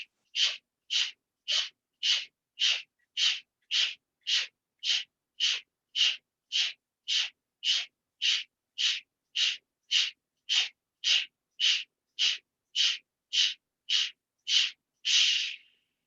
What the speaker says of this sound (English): Take a slow, steady inhale. Powerful exhale.